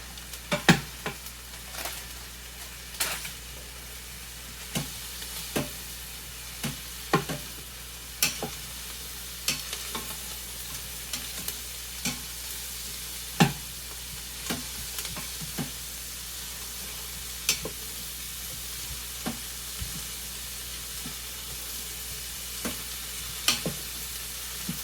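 Vegetables and teriyaki sauce cook in an Instant Pot, giving a steady low sizzle with repeated sharp clicks and scrapes of stirring spaced through the whole stretch, close and fairly quiet, with no voices.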